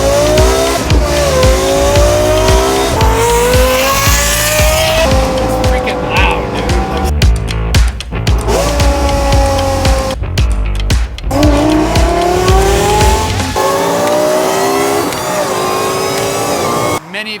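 Straight-piped Lexus LFA engine revving hard, a loud, high-pitched exhaust wail climbing and dropping through repeated rev sweeps, close and continuous with brief lifts between pulls.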